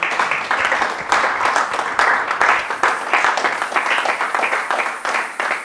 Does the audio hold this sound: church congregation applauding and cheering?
yes